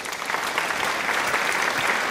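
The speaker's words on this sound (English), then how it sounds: "And that is so right for applause." Steady applause from a group of people, a dense, even patter of many hands clapping throughout at moderate level.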